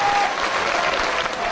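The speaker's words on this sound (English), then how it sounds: "This crowd getting behind CM Punk nonetheless as Samoa Joe tries to get back to his feet" Wrestling crowd applauding CM Punk during his 2004 match against Samoa Joe in England, a dense, steady roar of clapping and cheering that fills the arena without a break.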